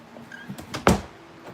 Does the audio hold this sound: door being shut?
yes